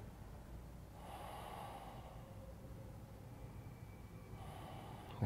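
Slow, conscious breathing while holding a yoga twist, two soft breath swells, one early and one near the end, faint and close over a low steady background hum, with no talking.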